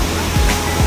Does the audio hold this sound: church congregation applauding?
no